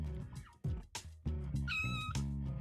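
Jane the cat meows in the video game No More Heroes, several tonal mewing calls in close succession with a bright, harmonic squeal near the middle, loud and up front with no talk over it.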